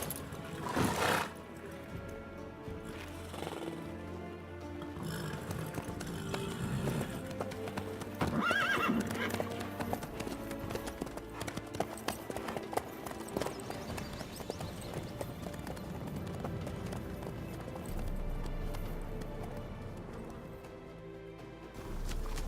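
Horse in The Witcher 3 clattering along in steady clip-clop hoofbeats, with a whinny near the start and a continuous rumble of movement throughout, close and fairly loud.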